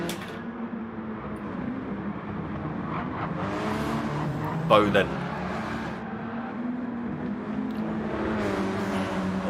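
Race cars from a Mount Panorama racing game, including a Renault Megane and Sciroccos, drone steadily through the whole stretch with a brief louder burst midway, all under continuous commentary talk.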